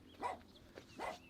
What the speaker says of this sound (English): Sounds like Paul's dog doesn't want me here, maybe.